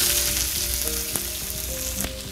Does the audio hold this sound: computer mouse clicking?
no